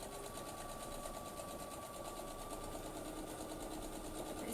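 A sewing machine stitching fabric for a bowl cover, a rapid steady mechanical whirring and clatter running continuously at even speed, close but fairly quiet, with no talking.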